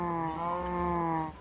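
Cows in Minecraft give a steady, drawn-out moo, the tonal lowing held for over a second at moderate loudness, with no one talking over it.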